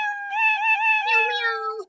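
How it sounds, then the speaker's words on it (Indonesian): A cat in the Roblox video game lets out one long, drawn-out tonal meow that wavers in pitch and drops at the end, clear and close with no other sound. "Oke, lihat ada kucing."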